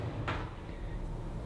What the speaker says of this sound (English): It's got the soft shut doors,